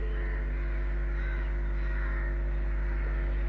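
A crow caws in a steady, drawn-out call, fairly faint against a constant low hum.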